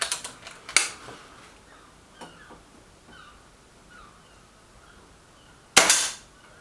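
A Reximex Myth air rifle fires a pellet, giving a sharp, crisp crack near the start and another near the end, with faint clicks and handling sounds in the quiet between.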